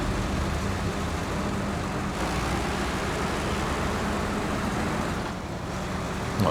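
A ZiKZ 612H truck in the SnowRunner video game drives with a steady, loud engine drone that barely changes throughout, with no talk.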